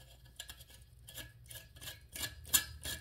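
Handle extension of a budget Ozark Trail survival-kit shovel being screwed on, giving a rough, dry grinding and rasping in repeated short scrapes, fairly faint and close, with one sharper scrape near the end.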